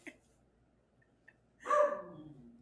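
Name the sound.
dog growling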